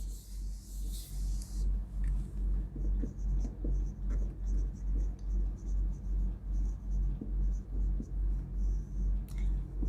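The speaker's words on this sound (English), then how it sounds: "So now we will write the definition here." Pen writing out a definition on a board or page in a lesson on balanced diet, steady repeated strokes under a constant low rhythmic hum.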